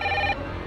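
A telephone rings with a bright electronic tone that cuts off abruptly after a fraction of a second, close and fairly loud, with no voices.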